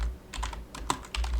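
Computer keyboard typing, quick bursts of close keystrokes with short pauses between, over a low steady hum; no voices.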